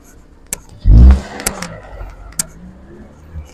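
A car sweeps past on a road, loud and close, with a brief whoosh of engine and tyre noise that fades away amid scattered clicks and faint background voices.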